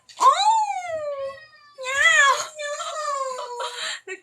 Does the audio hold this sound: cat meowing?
yes